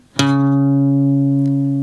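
A guitar sounds a single ringing note from the main riff of a song, played slowly on the A string's second fret, one clear pluck left to sustain and decay close up.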